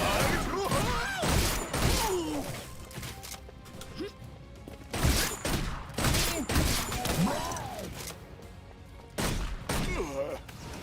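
Rapid bow shots from the longbow's alternate fire in the video game Orcs Must Die 3, a string of sharp impacts and bursts in repeated clusters, loud and close over busy game effects and some voices.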